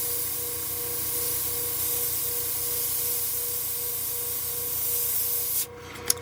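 A Gaahleri Ace airbrush sprays a steady, close, continuous hiss of air with a faint tonal whine underneath, then cuts off abruptly near the end with a short click.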